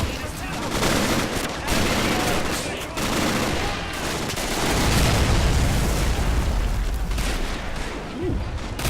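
Men of War: Assault Squad 2 forest battle, with dense, continuous machine gun fire and scattered bursts and booms, loud and chaotic throughout.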